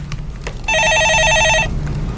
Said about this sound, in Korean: 예, 전화 받아보겠습니다.